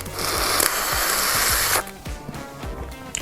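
Someone loudly slurps the juices out of a boiled crawfish head, with a long wet sucking hiss and then a few shorter squelchy sucks, close up.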